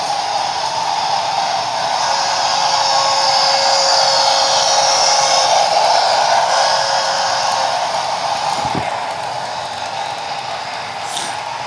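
A Bachmann K4s streamlined HO-scale model steam locomotive, #2665, runs its motor at speed with its wheels slipping: a loud, steady, high electric whir and buzz held close for several seconds, easing slightly near the end with a brief knock.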